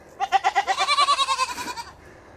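A goat on a farm bleats in one long, wavering, pulsing call that comes close and loud, then stops sharply.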